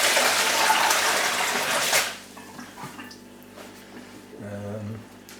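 Soaked coconut husk and water slop and splash into a plugged sink in a heavy rushing pour lasting about two seconds, followed by quieter drips and a short gurgle.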